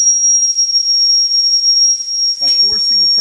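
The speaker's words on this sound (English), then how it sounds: "I'm releasing the steam" A model steam engine releases steam in a sharp, continuous high whistling hiss lasting nearly the whole moment, fairly loud and close, with a brief voice and clatter near the end.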